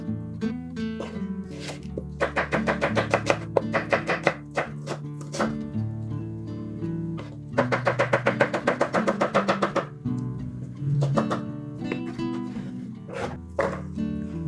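A knife slicing onion on a chopping board in a home kitchen, heard as fast, even bursts of crisp close-up taps with short pauses between runs, with a faint background tone and no talk.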